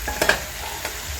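Stew pork is stir-fried in a pot with a low, steady sizzle and a few soft scraping stirs of the utensil, brief and close, with no talking.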